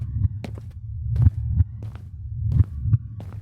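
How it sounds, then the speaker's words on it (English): An irregular heartbeat thumps low and muffled in uneven pairs and singles over a faint steady hum, the beats spaced unpredictably across a few seconds. "It sounded like some disorderly heartbeat, which wasn't my own."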